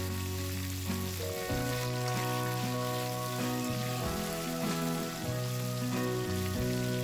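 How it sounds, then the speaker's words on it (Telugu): Tempering spices and green chillies fry in hot oil in a kadai, a steady loud sizzle and crackle running the whole time with no talking. "వేడెక్కిన కడాయిలోకి కొంచెం నూనె వేసి అందులోకి పోపు దినుసులు, పిరికేడు పచ్చిమిర్చి వేసి 1 నిమిషం పాటు వేయించుకోండి."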